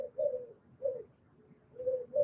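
Doves cooing: three soft, drawn-out coos spaced about a second apart, fairly close and alone in a quiet setting.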